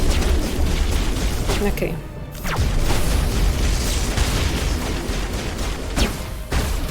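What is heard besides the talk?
rocket explosions in the video game Mass Effect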